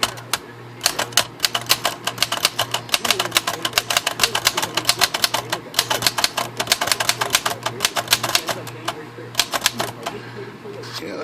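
A Remington portable typewriter with large primary type style and a repaired feed roller is typed on in a fast, steady run of crisp keystrokes close up, with occasional brief pauses and a low background hum.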